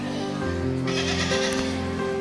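A sheep bleats continuously and loudly up close, its wavering, drawn-out cries filling the moment inside a church, with a light murmur of voices around it.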